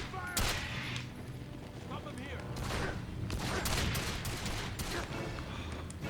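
Rapid gunfire bursts from the Quantum of Solace game on PS2, final mission at the Eco Hotel, layered with explosions and constant game noise, loud and dense for the whole stretch.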